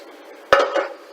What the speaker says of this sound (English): the first thing you're going to want to do is get a pan and grease that